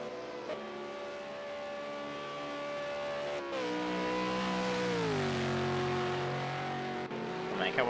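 Race cars lapping the Bathurst Mount Panorama circuit in Project Cars 2, V8 Supercar engines droning steadily with pitch rising and falling through gear changes, a continuous moderately distant engine tone.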